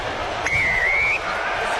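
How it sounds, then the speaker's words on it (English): A referee's whistle at North Harbour Stadium starts the 2011 Rugby World Cup match between Australia and Italy with a single sustained blast lasting about half a second, standing out over the low murmur of the crowd. "Whistle goes at North Harbour Stadium."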